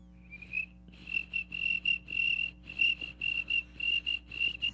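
A man imitates a cricket with his voice, making a high, thin chirp that repeats in quick, evenly spaced pulses. It sounds close and clear over a quiet room.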